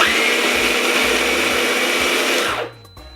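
Sorbet machine crushing fruit, a loud, steady motorized whine and grinding drone with rhythmic low knocks, running continuously before stopping abruptly near the end.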